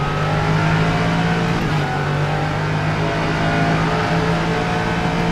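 Norma M30 LMP3 race car engine in rFactor 2 at Road Atlanta, a loud steady mid-pitched drone with a brief dip in pitch as it downshifts, continuous throughout without voices.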